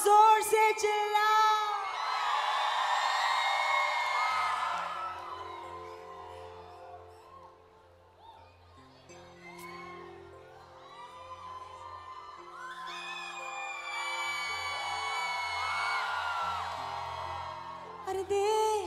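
A convention dinner audience shouts and whoops in two long loud surges, with a quieter stretch of voices and a low hum between them, at the annual APPNA convention's evening entertainment.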